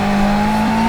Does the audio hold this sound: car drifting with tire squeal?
yes